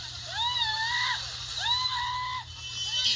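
A woman on a street screams in despair, two long anguished wailing cries with a noisy outdoor crowd murmuring underneath.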